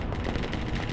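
Gunfire rattles against a heavy weapons team in the Broken Arrow war game, a loud, continuous burst of rapid shots and booms lasting about a second.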